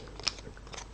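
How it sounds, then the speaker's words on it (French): A pair of scissors makes a couple of quiet, crisp snips through paper up close, one sharper cut standing out near the start, with no speech. "Alors je prends les ciseaux"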